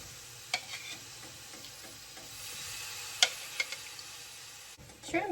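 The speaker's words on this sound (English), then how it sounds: "I'm gonna go ahead and just throw some shrimp down. Also trying to get a little bit of that sauce to cook with it." Small shrimp sizzle in a hot pan with sauce, a steady frying hiss punctuated by a few sharp clicks and taps of utensils against the pan.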